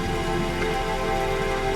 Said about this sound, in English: It's raining. It's actually raining in real life.